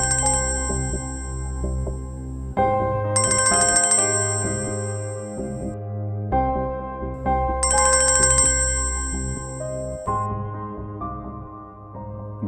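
A mobile phone rings after a number is dialed, a repeating electronic ringtone melody with bright chiming bursts, steady and close, with no voices.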